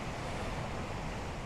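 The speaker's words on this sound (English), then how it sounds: "The waves are quite substantial, but not huge." Waves breaking on a winter beach at Mount's Bay, Cornwall, a steady dense roar of surf, continuous and broadband with some wind noise.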